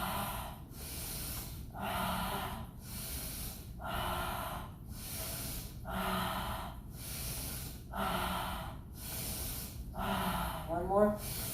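Forceful, rhythmic exhales and sharp breaths during a breathing exercise, about six strong puffs spaced roughly two seconds apart, close and clear, with an instructor's voice talking softly between them.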